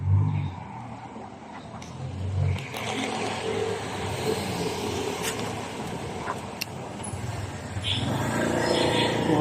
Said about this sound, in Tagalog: Mga sasakyan.